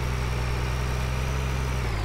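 A big tractor idles in Farming Simulator 2013, a steady, low, rumbling engine hum that holds an even pitch without revving, alone and unbroken for the whole moment.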